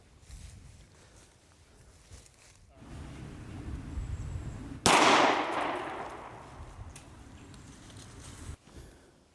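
A Ruger 57 pistol fires a single sharp shot at a red soda can outdoors, a loud crack with a decaying ring midway through, set against low background rumble and wind.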